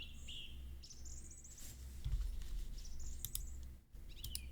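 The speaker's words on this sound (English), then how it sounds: "Lots of birds." Ambient birds chirping in the visual novel The House in Fata Morgana, scattered short tweets and quick trills repeating over a low background hum, fairly faint.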